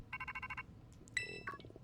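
A phone rings in Pokémon Violet, a short burst of stacked electronic ringtone pulses followed by a brighter chime with further tones, fairly faint under quiet background game audio.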